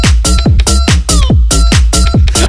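Rooster crowing at the opening of a song, loud and close, a rapid run of repeated crow-like calls over a thumping beat, with no talking.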